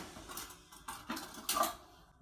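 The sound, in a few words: kitchen knife being fetched, cutlery clatter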